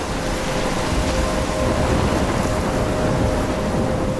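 A steady thunderstorm in the game Life is Strange, dense rain hissing without a break under a low rumbling roll of thunder, loud and continuous throughout with no voices.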